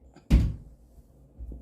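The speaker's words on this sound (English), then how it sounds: "shut my hall door" A hall door is shut with a single solid thud, close and short, followed by quiet room tone and a faint second bump.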